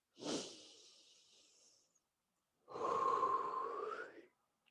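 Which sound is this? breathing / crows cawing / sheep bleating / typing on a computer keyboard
breathing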